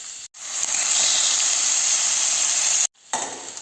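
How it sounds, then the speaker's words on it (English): Seasoned pork is browning in olive oil in a hot pan, giving a loud, steady sizzle and hiss. The sizzle cuts out briefly twice, as the meat is turned, and no one speaks. "I'm just browning the pork in olive oil for a few seconds on each side."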